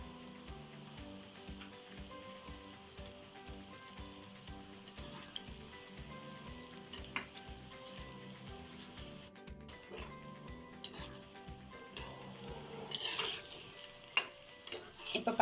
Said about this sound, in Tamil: நம்ம கட் பண்ண பீசஸை போட்டு பொரிச்சு எடுத்துக்கலாம்.